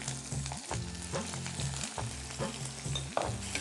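Onion dropped into hot oil already sizzling with cumin seeds in a home kitchen pan, giving a steady close frying hiss with rhythmic stirring scrapes throughout, no voices.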